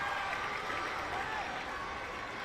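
A stadium crowd at an under-20 football match between the Maldives and Sri Lanka gives off a broad, steady roar of cheering and applause, distant and continuous.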